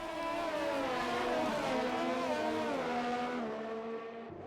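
A Formula 1 car on intermediate tyres in a racing video game, its engine whining loud and steady with shifting pitch before cutting off abruptly at the end.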